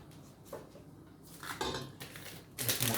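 A spoon scrapes and clinks against a pot while melting chocolate is stirred, with irregular soft scraping strokes and a few sharper metallic taps, close and fairly quiet.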